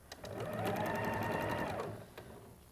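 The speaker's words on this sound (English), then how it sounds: "that's where I'm going to start sewing" Sewing machine stitching quilt pieces together, a close whirring run of rapid needle strokes lasting under two seconds before stopping, followed by a small click, with no talk.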